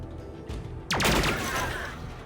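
A single sharp, booming gunshot in the turn-based game SteamWorld Heist II, close and loud with a ringing, whooshing tail after a soft lead-in.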